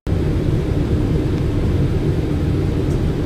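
An airplane comes in to land with a loud, steady engine roar that holds constant for a few seconds.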